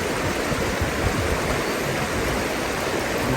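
River water flows in a steady, close, broadband rush, with faint splashing as clothes are washed in the stream and no one speaking.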